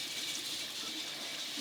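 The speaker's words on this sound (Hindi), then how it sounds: "अब मैं ये पानी में जो हमारे चावल भीगे हुए हैं इसको हम निकाल देते हैं" Water draining off soaked rice, a steady faint rushing splash with no clear pauses, heard alone at low level.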